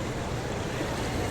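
Steady, dense wind and surf roar at a sea beach behind Koyla Dungar near Porbandar, a continuous loud wash with no voices.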